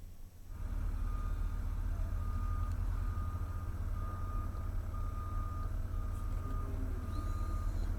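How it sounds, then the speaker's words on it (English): Reversing beeps ring out repeatedly from trucks at a half-finished pump station construction site, a steady engine rumble and low diesel drone running underneath throughout, with no talk. "watching as trucks come in and out of the half-finished pump station"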